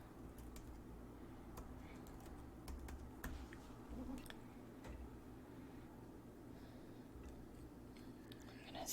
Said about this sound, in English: I'm going to type in the name of the font that I'm using.